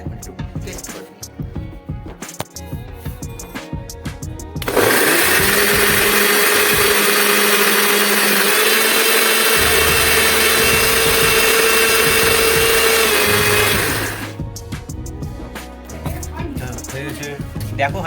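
Electric mixer-grinder blending chopped onion, chili, ginger and garlic into paste, a loud steady whirring motor running for about nine seconds between stretches of background talk and household noise.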